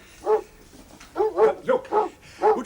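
A dog barks in a short uneven series, one bark followed after a pause by four quick ones, close and clear with no talk over them.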